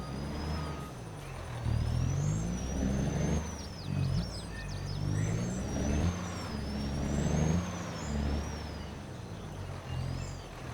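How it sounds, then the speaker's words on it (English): Heavy truck and trailer engine in Farming Simulator 22, a steady low diesel rumble with swelling revs as it manoeuvres into an end parking bay, with whining high tones above. "I think we'll park the truck and trailer in this bay"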